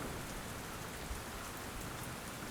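Steady rain falling, a dense even hiss of drops on a surface, soft and continuous with no other sounds.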